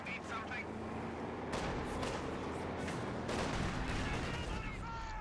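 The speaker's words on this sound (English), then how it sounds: "152mm high explosive shells being set in their general direction, threatening to annihilate the crew" Heavy 152mm high-explosive artillery shells slam down in a Company of Heroes 2 battle, a dense run of booming blasts and crackling gunfire with two big impact surges, layered under ongoing game noise and voices.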